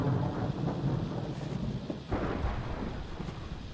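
A thunderstorm in Minecraft rolls on steadily, with heavy rain and low rumbling thunder swelling at intervals and no voices.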